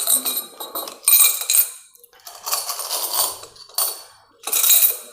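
Coins clinking and clattering on a hard surface during a Lakshmi mantra ritual, several close, bright metallic bursts separated by short gaps.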